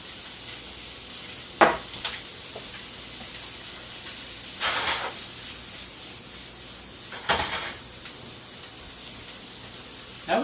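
Corn searing in a hot pan sizzles softly and steadily, with a few louder crackling bursts rising over the hiss and no talking.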